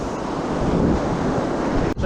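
Ocean surf rolls and washes onto a beach where surf fishing is underway, a dense continuous roar of breaking waves mixed with gusty wind buffeting the microphone, with no voices.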